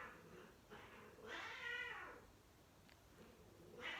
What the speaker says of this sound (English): I hear a cat go meh and I jump.